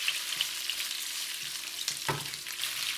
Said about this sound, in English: So we're gonna put the ribs in it. So we're gonna brown them up a little bit.